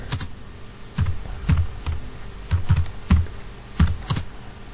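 A computer keyboard is typed on in short irregular bursts of sharp, close keystroke clicks with brief pauses between, and no voices.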